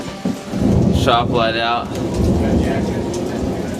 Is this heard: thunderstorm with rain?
yes